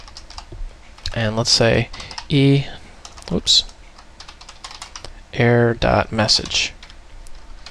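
Close computer keyboard typing while C# code is written, with quick bursts of clicking keys mixed between spoken phrases from a narrator.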